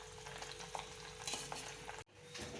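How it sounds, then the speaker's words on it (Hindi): Paneer frying and being stirred in a pan for a simple breakfast, a steady close sizzle with scraping stir strokes throughout and a brief dropout near the end. "पनीर वनीर फ्राई हो रहा है"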